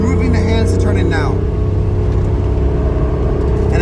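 A car on an autocross course at Lime Rock braking and turning in, its engine a steady, loud rumble under a voice.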